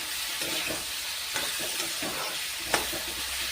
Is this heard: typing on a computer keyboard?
no